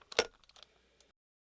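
A cork pulled from a homemade glass potion bottle prop, heard close up as a sharp little pop, then a few faint glassy clinks and taps before silence.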